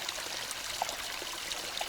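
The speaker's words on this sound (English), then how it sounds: "it looks like we got a small stream coming down through here. Nice little waterfalls through there." A small forest stream with little waterfalls runs along a trail in the Black Forest, giving a steady, close rushing babble with light trickles and no talk.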